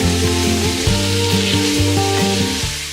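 One pound of lean ground beef sizzles and fries in olive oil in a hot skillet, a steady crackling hiss with occasional stirring, close and clear with no voices.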